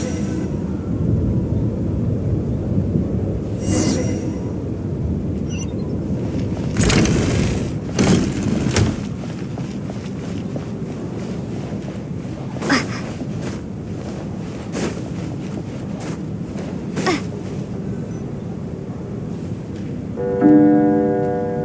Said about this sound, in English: What is going on with this storm?